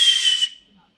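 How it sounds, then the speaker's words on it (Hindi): A single sharp, high whistle blown by Shri Krishna, loud and close, held for about half a second and then cut off, leaving near silence. "सीटी बजाई श्री कृष्ण ने।"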